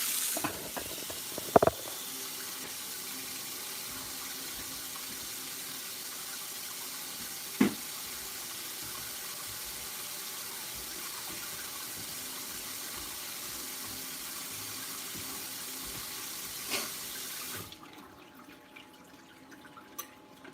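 Water runs steadily from a kitchen tap into a sink during dishwashing, a constant soft hiss with a few faint clinks of dishes, then the flow cuts off near the end, leaving quiet.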